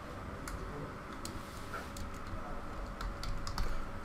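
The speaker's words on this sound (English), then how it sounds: "I will just type silver here." Typing on a computer keyboard, faint scattered key clicks tapping irregularly over a low, steady background hum.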